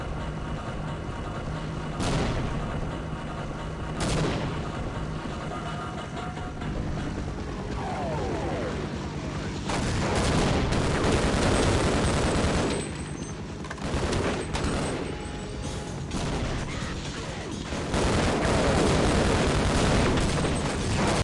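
A bombing run in the video game Half-Life brings dense, rolling explosions and bursts of gunfire, loud and continuous with heavier blasts every few seconds and no voices.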